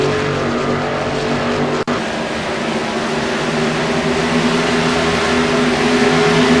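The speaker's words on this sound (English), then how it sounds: "See that number 21 Ford Fusion running the Sim Racing Authority paint scheme. Down the back straightaway he comes." Number 21 Ford Fusion race car at Kentucky Motor Speedway in a sim racing game, roaring loud and steady down the back straightaway with one abrupt cut near the start.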